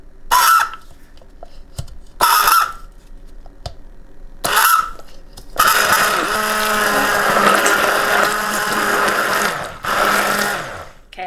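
A blender mixes eggs, powder and cream cheese, running in three short loud pulses before settling into a longer continuous whir with a steady motor hum and a brief surge near the end.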